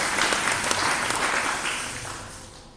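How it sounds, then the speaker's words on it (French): Church congregation applauding after a sermon, a dense, loud wash of clapping that fills the room and then slowly tapers off with no talk over it. "Si j'étais à votre place, j'allais acclamer pour cette parole."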